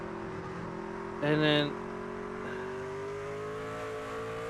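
Race truck engine in the iRacing video game at Canadian Tire Motorsports Park, heard on board as a steady high droning whine with shifting pitch, while someone talks briefly over it.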